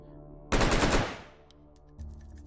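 A video game firearm set to single fire unleashes a rapid five-shot burst, loud and sharp, blurring into one roaring rattle that decays into a fading tail before a low thud.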